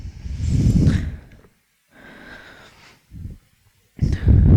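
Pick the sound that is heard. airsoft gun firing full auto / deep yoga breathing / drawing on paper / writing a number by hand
deep yoga breathing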